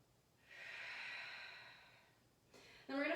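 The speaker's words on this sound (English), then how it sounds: "Take a deep breath in and out" A slow, deep breath drawn in and let out during an all-levels yoga class, soft and close, followed by a brief louder exhale and a voice starting to speak at the end.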